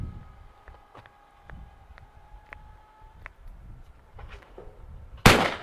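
Benelli shotgun shots at clay targets, including an Ethos, with one sharp loud blast near the end after a stretch of quieter outdoor clicks and tapping.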